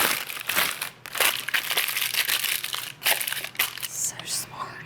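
Parchment paper crinkles and crumples loudly up close as it is pressed into a baking dish, with several bursts of rustling separated by brief pauses.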